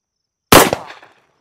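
A single sharp, loud crack from a Wilson Combat pistol chambered in 460 Rowland firing a 230 grain bullet at 7 yards, with a short echoing decay and no talking.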